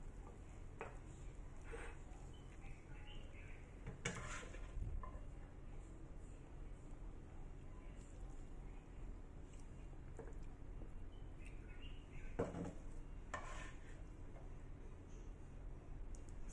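Cooked Chinese-style salty vegetables being scooped into a serving dish, with a few sharp clinks of a utensil against the pan and dish over a faint, steady kitchen background, close by.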